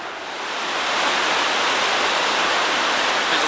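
Lahardy Rapids on the Yellowstone River rush in a steady, loud, broadband roar of whitewater, close and continuous, with no voices over it.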